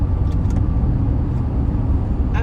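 A car driving in rush-hour traffic on Interstate 75 through Atlanta, heard from inside as a steady low road rumble and engine drone, continuous and fairly loud with no clear events.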